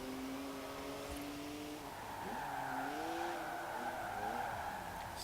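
A 2019 BMW Z4 drifting through a corner in Forza Horizon 4, its tires squealing steadily over a sustained engine drone, with the pitch bending as the slide continues.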